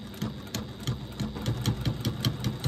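A sewing machine stitches a pouch seam, its needle thumping in a fast even rhythm with a steady mechanical whir underneath, running close and continuously without talk.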